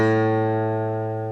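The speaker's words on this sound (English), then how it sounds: "your 5th string, I believe, is called an A string." A single open A string on a guitar is plucked once and rings alone, its steady harmonic tone decaying slowly over a second and a half.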